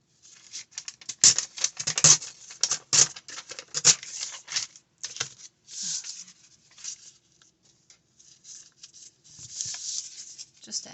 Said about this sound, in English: Rip it again.